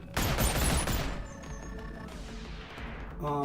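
Two guns fire together in the virtual reality game Boneworks. A dense, loud burst of rapid shots lasts about a second and then decays into ringing, fading echoes, and a new noise starts at the very end.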